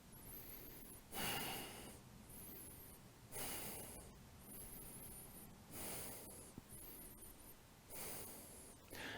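Breathing held through a vinyasa yoga pose: slow, audible inhales and exhales through the nose, about five airy breaths spaced every couple of seconds, close and soft over quiet background music.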